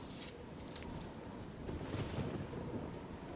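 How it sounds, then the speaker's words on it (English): Steady rain and low rolling thunder fill the weather of the fantasy role-playing game The Elder Scrolls IV: Oblivion as a continuous, moderately quiet outdoor rumble, with no talking over it. "It's still raining."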